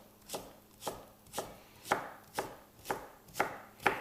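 A knife dices sweet potato on a chopping board in a steady rhythm of eight crisp, evenly spaced chops, close and clear with no talking.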